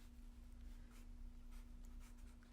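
A pen writes a list on paper in soft, faint, scratchy strokes. The strokes come in short bursts over a low steady hum, with no voices.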